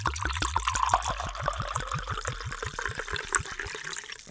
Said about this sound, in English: Time for the pour